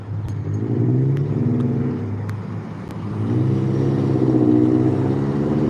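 A car engine revs up and down in two long swells, a nearby mid-pitched roar with a faint clatter, no voices over it.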